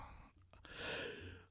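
A single drawn-out yawn from a man at home, rising into a long breathy exhale, close and fairly quiet, with no talking.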